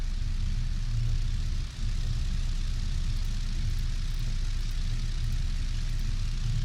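Continuous droning engine of a dive bomber aircraft in the naval video game Victory at Sea Pacific, a steady loud hum holding level throughout with a brief dip near the start, no talking.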